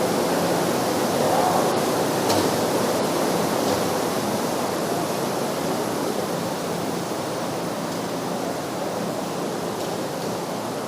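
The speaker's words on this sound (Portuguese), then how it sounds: "Está caindo água, parece o dilúvio aqui" Heavy rain pouring down outside during a church gathering, a dense, continuous roaring wash of water that stays steady and loud throughout, with no clear voices above it.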